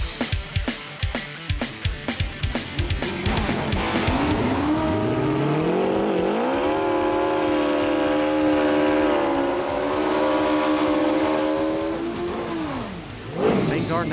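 Drag racing machines on a strip snap through rapid staccato revving, then launch into a long, loud sustained engine howl that rises in pitch and fades away near the end, with people talking faintly underneath.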